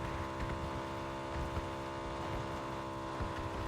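In PUBG, a motorcycle runs flat out at around 130 km/h, producing a constant, dense engine roar with rushing wind, loud and unbroken throughout.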